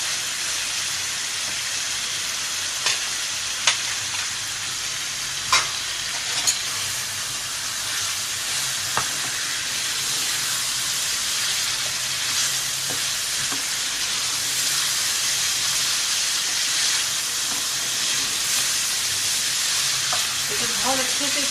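Beef liver curry masala frying in hot oil, a steady broad sizzle and hiss running throughout with a few faint clinks of stirring, close and even.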